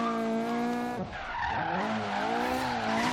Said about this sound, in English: Big e-brake slide.